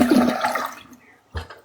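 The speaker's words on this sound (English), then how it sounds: "Yeah, that's the flush" A toilet flushes in a short, loud, close rush of water that fades quickly, followed by a brief thump and gurgle. No one talks.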